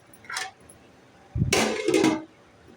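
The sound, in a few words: lid being put back on the frying pan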